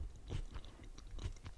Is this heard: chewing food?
yes